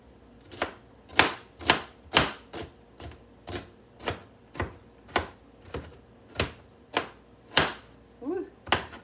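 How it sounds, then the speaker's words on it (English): Knife strikes a cutting board in a steady run of about fifteen crisp chops, evenly spaced and close, as food is cut into little chunks, with a faint voice near the end. "Cut these up in little chunks."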